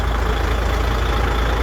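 Heavy truck tractor engine idling in a steady, loud low rumble with a dense broadband hiss, continuous and unchanging, no voices over it.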